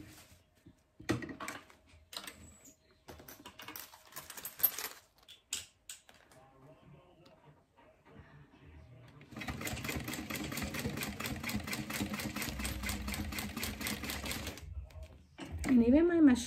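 A domestic sewing machine top stitches the spine side of a fabric organizer: scattered clicks and handling sounds, then a close, rapid, rhythmic stitching run that stops, followed by a brief whirring rise.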